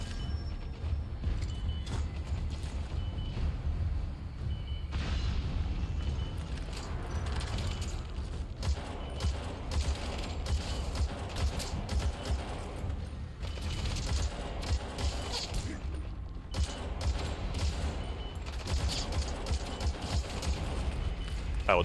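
Sustained gunfire and mechanical clatter in Metal Gear Solid 5: The Phantom Pain, a dense continuous barrage of shots running loud throughout with no talk over it.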